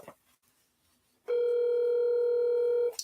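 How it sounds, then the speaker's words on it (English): A single steady electronic telephone ring tone holds loud and unbroken for about a second and a half after a quiet start, then cuts off abruptly. "John, answer the phone."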